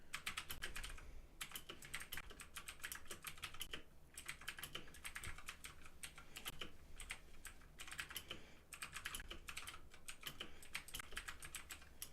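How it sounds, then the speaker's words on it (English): Fast, continuous typing on a ReDragon Kumara mechanical keyboard with clone blue switches, producing crisp, clicky keystrokes in quick bursts with brief pauses, heard up close and alone. "I'm just going to sort of type here, and you guys can hear the sound of these clone blue switches"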